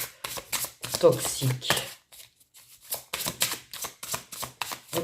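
Tarot cards rustle and slap softly as a card is covered during a reading, brief papery bursts scattered under someone talking in French, with a short quiet gap midway.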